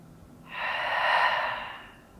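A single slow, deep breath during a yoga stretch: airy and close, it swells over about a second and then fades, with no talking.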